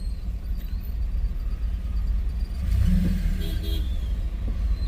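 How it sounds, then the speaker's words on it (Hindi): Road traffic in a jam: a steady low rumble of car engines idling and creeping nearby, with a swell of engine noise midway and faint horn-like tones above. "तो अभी तो दोस्तों इतना ज़्यादा ट्रैफिक जाम है कि पता नहीं मैं कब पहुंचूंगा।"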